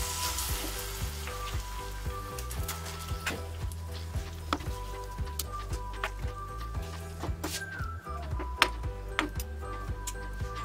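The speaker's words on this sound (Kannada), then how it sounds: "ನಾನು ಇಲ್ಲೊಂದು ತವ ಇಟ್ಕೊಂಡಿದ್ದೀನಿ, ಬಿಸಿಯಾಗಿದೆ. ಒಂದು 2 ಸ್ಪೂನಷ್ಟು ಎಣ್ಣೆ ಹಾಕ್ಕೊಂಡಿದ್ದೀನಿ." Batter sizzling and frying in a couple spoons of oil on a hot tawa for a quick breakfast dish, a steady crackling hiss with faint clinks and ticks throughout, no talking.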